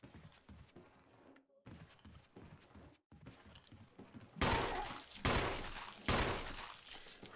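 Gunfire in the Resident Evil Remake video game: several loud, sharp shots crack out in quick succession near the end, after a stretch of quieter thuds and muffled game noise with a voice talking.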